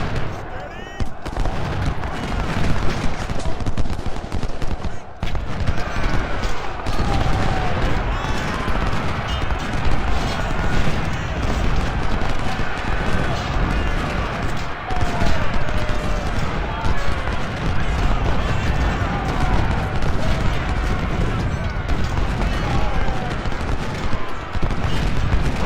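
Dense, continuous volleys of rifle and artillery fire from soldiers in a Civil War strategy game, rattling and booming without pause under a loud battle din, with voices mixed in.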